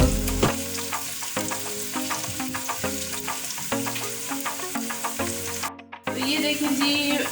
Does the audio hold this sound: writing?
no